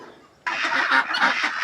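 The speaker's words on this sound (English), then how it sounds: "just take a real quick look at the Rouen duck flock" Rouen ducks in their pen on a homestead, a loud, close burst of overlapping honking quacks that starts suddenly and carries on steadily to the end.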